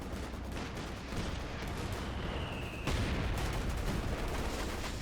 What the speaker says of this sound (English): MG opening fire.